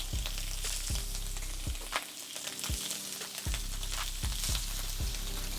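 Seasoned shrimp searing in a hot pan, a continuous close, loud sizzle with light clicks and taps of pieces being set down, no talking.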